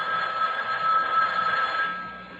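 A telephone rings beside a bed in a radio drama: a steady, continuous electronic ring holding for over two seconds, fairly close and alone, cutting off abruptly at the end.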